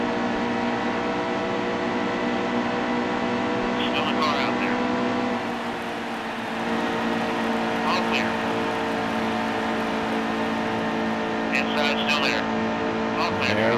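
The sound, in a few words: NASCAR truck engine racing, from the video game NASCAR Heat 2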